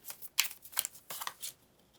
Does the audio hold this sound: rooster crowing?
no